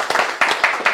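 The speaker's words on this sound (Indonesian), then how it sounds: "Berikan sorak-sorai buat Yesus yang dahsyat." A church congregation claps for Jesus, with several sharp, fairly loud bursts of hand claps coming in quick rhythmic groups, close by and with no talk over them.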